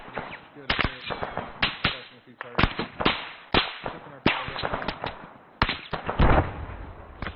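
Repeated sharp explosive blasts from grenades in a field training exercise, loud and close, coming in irregular bursts with bursts of reverberant crackle between them.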